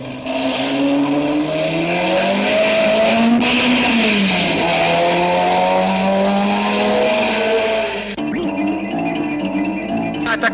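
Race cars at the 1958 Charade circuit race roar loudly and continuously, engine pitch rising and falling as cars pass and change gear, with a sharp shift near the end.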